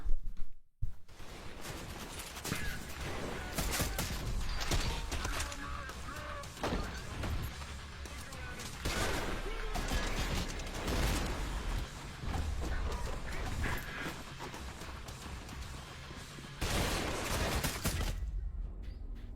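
Enemy gunfire in a shooter video game from an opponent stuck inside a wall, dense rapid shots crackling continuously for many seconds over a busy game soundscape, loud and close.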